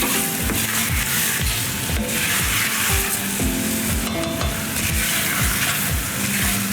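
Okra and celery stirred into a gumbo pot, a steady sizzle of frying underneath repeated scraping strokes of a spoon across the pot bottom, close and continuous with no voices.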